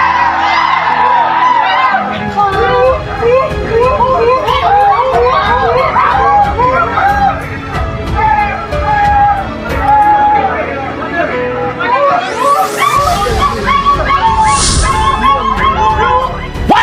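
A large crowd shouting and whooping while running around a site in support of Lukas Enembe, a loud continuous babble of many voices with occasional louder cries.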